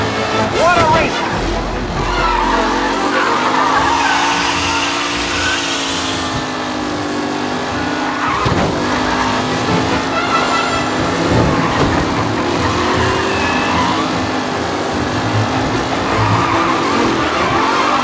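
Race cars skid and squeal through a race in Mafia: Definitive Edition, engines droning steadily and tires screeching loud and close for the full stretch while voices talk over the action.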